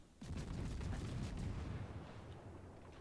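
Minotaur cruiser guns in World of Warships open fire, a sudden booming onset followed by a dense rumbling roll of rapid salvos that carries on loud for several seconds.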